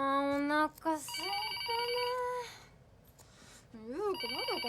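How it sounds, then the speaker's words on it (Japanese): A telephone or fax machine rings with a bright electronic warble, starting steadily and then breaking into repeated trilling bursts, with people talking over part of it. "電話か？ ファックスか。"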